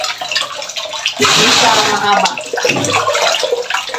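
Strong water flow gushing from a tap or hose in a home laundry area, loud and steady for several seconds beneath a person talking.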